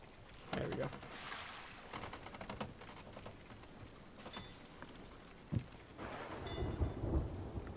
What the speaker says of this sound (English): It doesn't look like the storm's even on top of us.